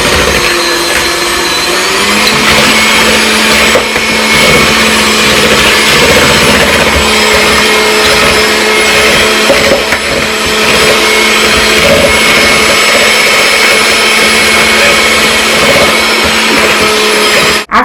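An electric mixer beats cake batter of butter and eggs with a loud, unbroken motor whir and a steady hum that holds from start to finish, with no talking.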